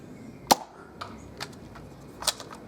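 Prototype Nerf crossbow firing foam darts, sharp snapping releases, one loud crack followed by quieter thuds and a second distinct snap, close by with no voices.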